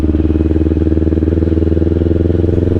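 A 2024 Kawasaki Ninja 500 KRT SE engine holds steady at about 3,500 rpm while riding. The close, loud, even throb pulses rapidly under wind noise, and no one speaks.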